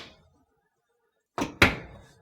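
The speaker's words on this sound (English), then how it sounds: "So when we open and close the door, you can see that it the sensor opens and closes." A dryer door swings open and then shuts, giving two quick, close thumps a split second apart after a moment of near silence.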